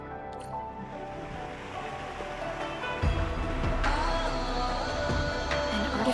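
A powered raft glides through an underground water channel in the video game Endfield, with a steady wash of water and engine rumble, plus a few splashes and clanks partway through.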